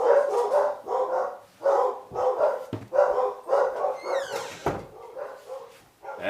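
Dogs bark repeatedly at an arriving delivery, a run of loud close barks in quick uneven bursts with brief pauses between.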